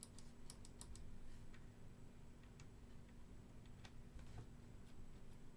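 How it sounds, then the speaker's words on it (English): A clicking latch on an electronics-store item gives a few quick, faint, crisp clicks near the start, followed by sparser soft ticks over a steady low hum. "This is a clicking latch."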